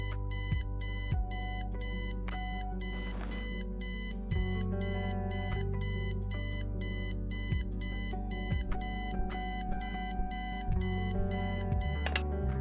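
An alarm clock in the video game Kathy Rain rings on and on in a rapid, repeating electronic beep pattern, loud and steady for the whole stretch, with occasional low thumps beneath and no talk.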